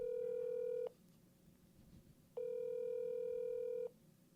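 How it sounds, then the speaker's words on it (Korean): A phone call connecting, sounding two long steady ringback tones of about 1.5 seconds each, separated by a pause of roughly 1.5 seconds, clear and alone with no voices. "네 전화 연결되고 있습니다"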